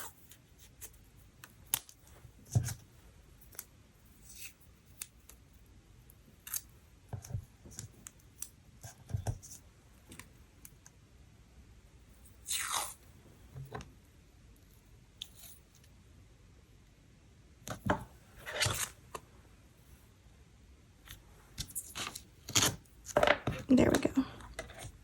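Clear adhesive tape being peeled and torn while planning a Hobonichi Cousin diary page, heard as scattered short scratchy rips and clicks close by, with quiet gaps and a busier cluster of tearing near the end.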